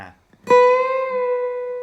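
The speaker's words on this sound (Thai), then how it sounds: "เพื่อนๆดันสายหนึ่งช่องที่ 7 ครับ ดันขึ้นไปครึ่งเสียงแล้วก็ปล่อยลงมา" One acoustic guitar note on the first string at the seventh fret rings out clearly after a brief soft tap, bent up a half step and released, sustaining steadily and fading only slightly.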